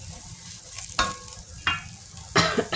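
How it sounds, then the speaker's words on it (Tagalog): Meat is pan-fried until brown in a Filipino dish, with a continuous close sizzle broken by three sharp clatters of a utensil stirring and scraping the pan. "pan fry ko muna siya hanggang mag-brown"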